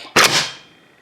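An AK rifle's bolt slams forward in a single sharp metallic clack, close and loud, then rings away into quiet.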